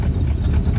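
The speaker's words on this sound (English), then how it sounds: "Let me idle it up a little bit." A short, close burst of a 1970 Mustang V8 idling after decades abandoned, a loud, deep, lumpy throb with no voices.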